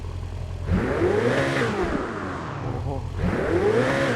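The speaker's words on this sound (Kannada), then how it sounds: "ಸೌಂಡ್ ಕೇಳಿಸ್ಕೊಳ್ಳಿ ಗಾಯ್ಸ್, ರೆವ್ ಮಾಡ್ತೀನಿ" A BMW S1000 RR superbike in GTA V revs hard twice, each rev rising to a loud, buzzing high-pitched whine and then dropping back to idle. A man gives a brief exclamation over the engine.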